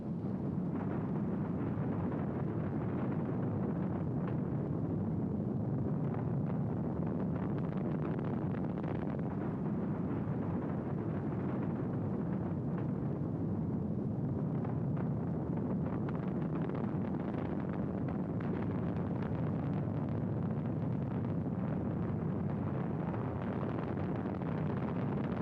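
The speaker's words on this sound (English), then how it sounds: "We have ignition sequence start. Engines on, 5, 4, 3, 2, all engines running." The Apollo 10 Saturn V rocket's engines roar at launch, a sustained, heavy, wind-buffeted low rumble lasting throughout, distant and unbroken, with no voices.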